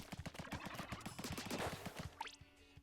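Rapid weapon fire aimed at practice dummies in the game Splatoon 2, a steady stream of short repeated bursts that stops abruptly, followed by a brief rising electronic tone.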